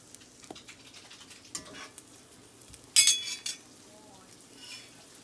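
French toast fries in butter in a pan, giving a soft, steady sizzle with occasional clinks of a utensil against the cookware and one louder clatter partway through.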